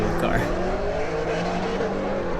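Drift cars in a pro-am drift competition, including a small Miata, with a steady loud engine roar and tire squeal throughout, close and continuous, with some voice underneath.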